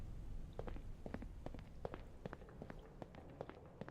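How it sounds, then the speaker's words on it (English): Footsteps in The Backrooms game: a quiet, steady run of soft, evenly paced steps, faint and somewhat distant over a low background rumble, with no talking. "I heard footsteps."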